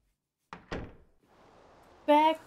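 A back door opening in the video game Galerians: two short thunks near the start, then a low murmur and a bright, tonal creak-like burst near the end, heard alone.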